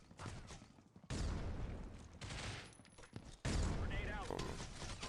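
A grenade blast and gunfire in a shooter video game: two sudden, loud broadband bursts stand out over ongoing rattling shots, with voices talking underneath.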